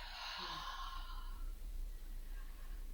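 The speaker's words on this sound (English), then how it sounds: "Deep breath." A single deep breath, a long breathy exhale like a sigh, close and soft, fading into quiet room tone with no talking.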